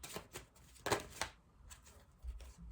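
A tarot card is drawn from the deck with a few quick papery slides and flicks of card stock, close and quiet, with no one speaking.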